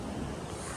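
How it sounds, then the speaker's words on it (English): River water rushes past a walker's crossing point, swollen after heavy overnight rain, a loud broadband wash mixed with wind buffeting the microphone across a very brief moment. "Obstacle number 1 of the day, river crossing"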